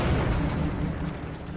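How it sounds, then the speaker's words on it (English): A replica cannon from the same era as Mehmet II's siege bombards fires with a loud, deep boom that fills the whole moment and rolls on as a long low rumble, without any voices. "Michael and Peter use a replica cannon from the same era as Mehmet's bombards."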